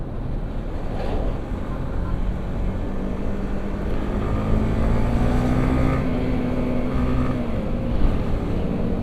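A Honda CBR150R motorcycle ridden at speed, its engine droning steadily under heavy wind roar, pitch rising and then dropping as gears shift, with someone talking over it.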